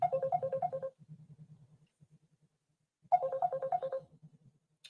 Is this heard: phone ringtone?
yes